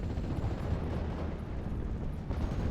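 An artillery time-on-target barrage rumbles in a World War II strategy game, a dense, continuous roll of distant, overlapping blasts that holds steady for several seconds with a sharper thump near the end.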